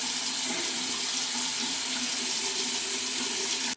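Shower water runs continuously to rinse dye out of hair, a dense, even hiss of spray splashing nearby with no pauses or voices throughout.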